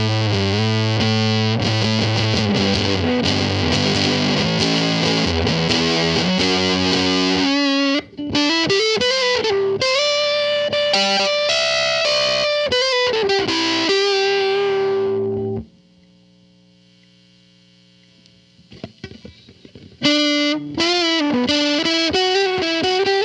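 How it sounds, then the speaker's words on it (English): Electric guitar played through a Greer Soma 63 pedal with gain at 3 and volume at 9, thick fuzzy distorted chords and sustained notes, loud and saturated, pausing into near silence before resuming strummed. "This to me sounds like a fuzz."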